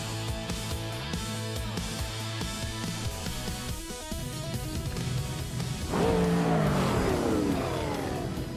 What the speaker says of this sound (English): the race is kicking off at Atlanta Motor Speedway, and Dorrogue is leading the pack in that classic 1971 Dodge Charger